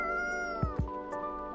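A cat in the video game Coffee Talk meows in a long, drawn-out call, followed by a few short low thumps and a quieter second meow, all close and clear with no voices.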